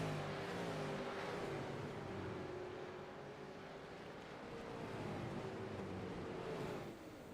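Several V8 racing cars in a sim racing game circulate close together at Mid-Ohio, their engines forming a continuous droning roar with shifting pitch that stays steady before dropping slightly near the end.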